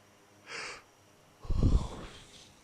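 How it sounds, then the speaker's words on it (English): A yawn in a flight-sim cockpit setting, a brief airy breath followed by a louder, deeper drawn-out exhale, close and alone with no talk. "The yawning has started already."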